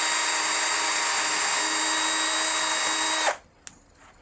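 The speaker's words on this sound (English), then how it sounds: "The next step I'm going to use is to actually drill a small pilot hole" A very small drill spins up and bores a pilot hole into a worn wooden guitar strap-button hole, a loud steady high whine lasting about three seconds, then cutting off, followed by a faint click.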